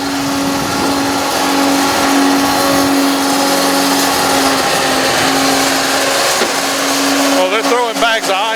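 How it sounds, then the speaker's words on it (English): A snow-making machine at Pullen Park in Raleigh crushes bags of ice with a loud, continuous motorized grinding roar, with voices chattering over it toward the end. "let's see what a machine that makes ice like that looks like. Makes snow like that."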